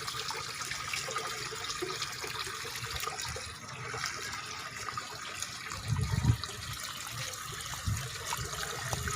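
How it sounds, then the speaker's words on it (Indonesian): Water drains out of a catfish pond during harvest, a steady faint rushing and trickling that runs continuously, with a few louder splashing surges partway through and no talking. "Pembuangan airnya nih."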